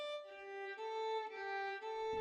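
Sampled Embertone Friedlander violin plays the same note a few times in a row without round-robin variation, each stroke sounding identical and mechanical, clear and solo at a moderate level.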